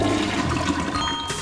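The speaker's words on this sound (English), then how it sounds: "Let's see what Gadd tries to flush." Toilet flush in the Luigi's Mansion 3 video game: a loud, steady rush of swirling water lasting the whole moment, with a bright splashy burst near the end and no talk.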